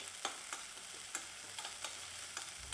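Crushed cashews, almonds and sprouted beans fry quietly in a pan, a soft sizzle punctuated by several sharp spoon taps and scrapes at irregular intervals.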